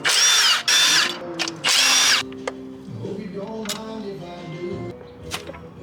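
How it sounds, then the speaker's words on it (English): A power tool zips out the cradle bolts atop a 6.7 Cummins cylinder head, three loud whirring bursts in quick succession, followed by lighter clinks and handling of parts, with someone talking afterward. "to get that off, we're just gonna take these bolts out"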